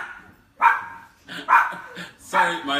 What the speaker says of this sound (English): Sorry, my dog, little Chica, she's very territorial